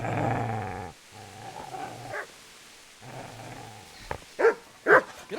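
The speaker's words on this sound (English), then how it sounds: "Get away, you mutt!" Dog in the video game Kingdom Come Deliverance growling low and steadily, then letting out a few sharp barks near the end, close and alone.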